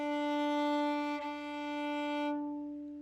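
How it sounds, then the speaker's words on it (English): A viola's open D string bowed in a beginner orchestra lesson, one sustained steady tone held for about two seconds with a small bump midway, then fading as the bow eases off. "Play your D string. Make sure it sounds like this one."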